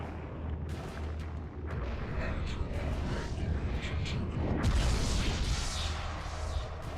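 Revolver shots in the video game Eternal Darkness, sharp reports rising out of a steady, dense game soundscape, with a heavier burst near the end.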